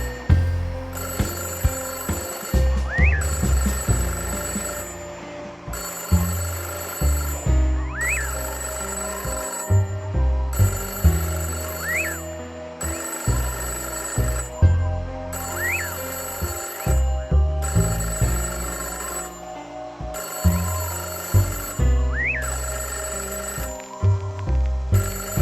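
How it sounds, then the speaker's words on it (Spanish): Telephones ring in the middle of the night in a radio horror drama, a repeating trembling bell that sounds in regular bursts, about a half-dozen rings, over a low, dark, pulsing music bed. "todos los teléfonos de la localidad se pusieron a sonar trémulamente"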